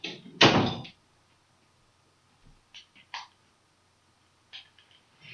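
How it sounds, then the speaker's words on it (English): A door shut in a room, one sharp close thud near the start, followed by quieter knocks and shuffling and a few faint sounds afterward in a mostly quiet space. "I have to shut my door"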